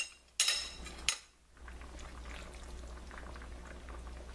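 Chicken thighs braise in a pan with mushrooms, cilantro, sausage and cream, giving a steady low bubbling simmer after two sharp clinks of cutlery or a lid at the start.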